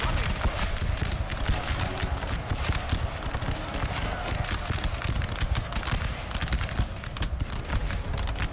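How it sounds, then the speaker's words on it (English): French units fire muskets at a building during a siege in Napoleon: Total War, a dense, continuous crackle of gunfire that runs throughout with battle noise layered under it. "We've got French units firing into the building."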